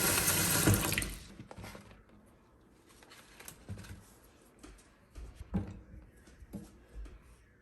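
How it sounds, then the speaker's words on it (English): Water runs from a tap into a sink, a loud rushing stream for about a second that then drops to quieter trickles and occasional splashes. "now I'm just filling up the sink with some water"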